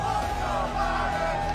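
Crowd chanting "let's go, Brandon" at a political gathering, a continuous blur of many voices yelling in rhythm, fairly loud and steady throughout with no break.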